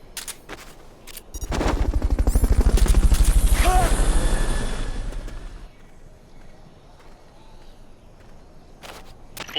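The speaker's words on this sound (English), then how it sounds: "Fulton recovery helicopter is complete." Fulton recovery helicopter from the video game Metal Gear Solid Peace Walker, a loud rotor-and-gunfire-like mechanical roar that swells over a few seconds, then fades, with brief game effects before and after.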